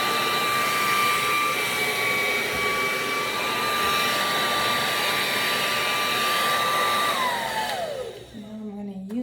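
A KISS Red Tourmaline Ceramic hair dryer blows with a steady, loud airy roar and a constant whine, then spins down near the end as it is switched off.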